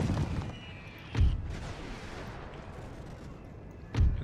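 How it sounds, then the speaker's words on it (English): In a WWI strategy game set at the Gallipoli landings, gunfire and artillery go off: three heavy booms, well apart, rise out of a low, rumbling battle noise. "Continuously shooting here."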